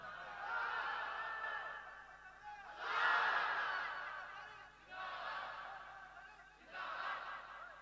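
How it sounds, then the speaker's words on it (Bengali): A crowd at a Bengali Islamic sermon gathering shouts takbir in unison, four loud collective swells of chanting voices rising and fading in a steady call-and-response rhythm. "তাকবীর মারেন জোর করে।"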